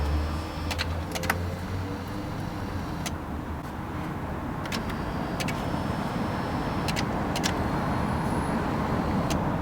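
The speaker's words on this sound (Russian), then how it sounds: "Сиденье у нас возвращается, как мы запрограммировали, на второе положение." Power seat motor in a BMW X5 E53 driving the seat back to a stored memory position: a steady low electric whir runs throughout, close up, with a few sharp clicks and taps at intervals.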